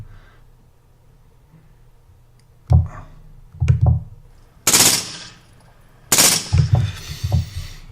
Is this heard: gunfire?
yes